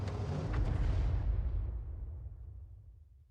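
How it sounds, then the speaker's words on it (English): HEAT round from a tank game striking its target, a deep booming explosion that hits at once, then rumbles and fades slowly over a few seconds. "Oh, that was a heat round."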